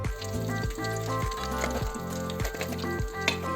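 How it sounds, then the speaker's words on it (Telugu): BBQ chicken fries in a pan, sizzling steadily and close, with rhythmic scraping strokes of stirring repeating roughly every half second throughout. "నేను ఇప్పుడు బాబీక్యూ చికెన్ను ఫ్రై చేస్తున్నాను."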